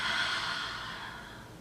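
A slow, steady inhale through the nose taken while settling into a reclining yoga twist with the knees lowered to one side, a soft airy rush that starts strongest and gradually fades over about a second and a half.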